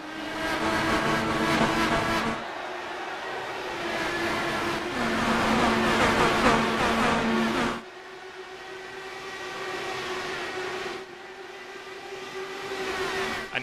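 IndyCar race cars starting the sim-racing Kentucky 200 at Sparta, Kentucky: several loud engine roars rising and passing in waves, with steady high-pitched drones between the louder surges.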